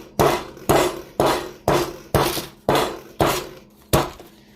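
Eight firm, evenly spaced taps on a block of hard, cold salted Irish butter being flattened for croissant dough, each a sharp knock with a short ringing decay, close and loud with no talking.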